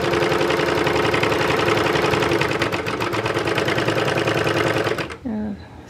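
A serger stitching four threads along a fabric seam runs at a fast, steady mechanical whir that continues for about five seconds before stopping abruptly, followed by a brief softer sound.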